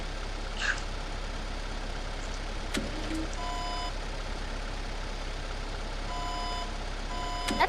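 A forklift reverses inside a video game, its backup alarm repeating steady evenly spaced beeps over a constant low engine drone, mid-distance and fairly clear, without talking.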